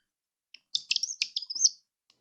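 A bird-call toy chirps in a quick burst of bright, high twittering notes and warbles lasting about a second, close and fairly loud against near silence, with a few faint clicks before and after.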